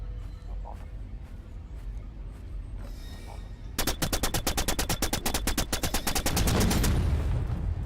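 A bandit's gun fires in the sci-fi shooter The Signal From Tolva, a rapid burst of loud, evenly spaced shots for several seconds over a steady low rumble, swelling into heavier blasts at the end.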